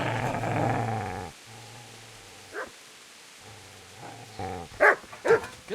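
In the video game Kingdom Come Deliverance, a dog lets out a low, sustained growl, then after a pause gives several sharp barks in a short cluster, fairly close.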